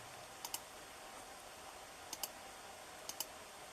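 Computer keyboard typing a file name, a few soft clicks in brief pairs spaced about a second apart, faint against a steady low hiss.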